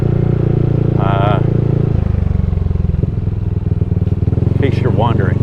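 Motorcycle riding through the old Clark Air Force Base during typhoon cleanup, a steady loud engine drone close by throughout, with brief bits of voice or whistling over it.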